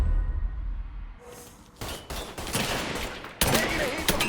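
Gunfire in the video game Mafia 3 comes in sharp bursts of rapid shots after a quiet start. The rattling volleys build and grow denser and louder toward the end, with no speech.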